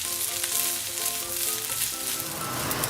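Rice for pineapple fried rice fries in a hot pan with a dense, constant sizzle and crackle, close up, with tonal clinks that suggest a spatula stirring it.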